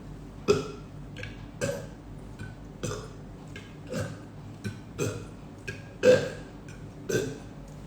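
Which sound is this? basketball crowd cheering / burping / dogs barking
burping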